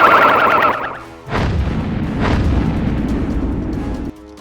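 Sci-fi plasma bomb blasts in an audio drama space battle: a warbling alarm-like tone gives way to two heavy, rumbling booms with a sustained low roar, loud and close, ending abruptly.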